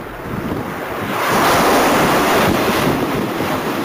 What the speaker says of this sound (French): Les vagues arrivent en douceur sur une plage bien nettoyée